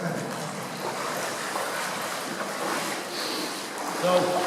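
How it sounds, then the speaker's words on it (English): Footsteps wade through deep, river-like flood water inside a disused railway tunnel, producing a steady, close sloshing wash with no clear pauses between steps. "the flood water is quite deep. In fact, it's like a river. It's like walking through an underground river."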